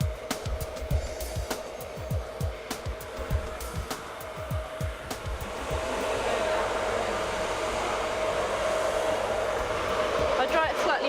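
A hair dryer blows hair dry in a salon. A steady whoosh builds to a constant roar, and earlier bursts of knocking and handling sounds break through it.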